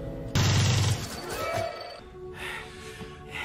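A burst of gunfire from a powerful firearm in a SWAT standoff: a loud sharp blast followed by ringing decay and scattered clatter, with faint voices and shuffling afterward.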